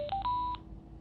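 Parani M10 motorcycle intercom by Sena giving a rising series of three clear electronic beeps after its buttons are pressed, close and alone, followed by quiet background.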